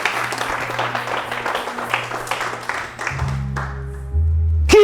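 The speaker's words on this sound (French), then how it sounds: "Qui va acclamer le Seigneur ici là?" A church congregation applauds and acclaims the Lord, a loud crowd of clapping mixed with cheering voices for a few seconds, ending in a sustained tone as the room settles.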